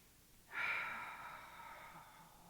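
A deep, shared inhale from a church congregation during a guided meditation, rising suddenly as a soft airy rush and tapering off gradually over a couple of seconds, fairly quiet and unaccompanied by speech.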